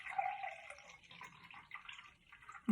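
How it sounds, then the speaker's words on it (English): Water is poured into a glass until it is nearly full, a light trickling stream that wavers throughout, with a brief louder knock at the very end. "I'm going to fill up the glass so it's nearly full"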